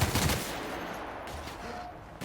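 A short burst of heavy weapon gunfire in The Outer Worlds, a quick cluster of loud shots at the start that drops into quieter ambient noise.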